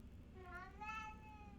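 A house cat meows in a long, rising and falling cry that sounds close and fairly loud, heard alone with no talk.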